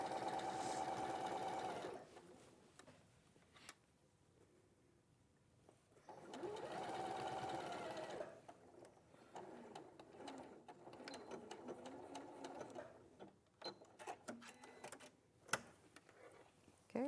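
A sewing machine stitching a simple wrap jacket runs in steady bursts, whirring and ticking at close range, with pauses between runs and some faint background voices.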